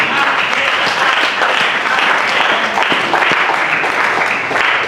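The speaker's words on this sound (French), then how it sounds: "on peut acclamer le nom de Seigneur" A church congregation applauding to acclaim the Lord: loud, dense, sustained clapping from a large crowd that continues evenly throughout, with faint voices mixed in.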